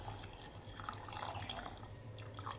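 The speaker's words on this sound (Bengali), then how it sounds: "পরিমাণ মতো জল দিয়ে দিচ্ছি" Water poured from a modest height into a pressure cooker holding shim (flat bean) seeds and a little salt, a steady close trickle with small dripping splashes and no voices.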